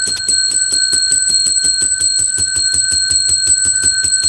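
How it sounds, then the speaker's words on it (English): A bell is struck 30 times in quick, even succession, each bright metallic ring overlapping the next in a loud, steady close-up pattern. "That was 30 rings of the bell."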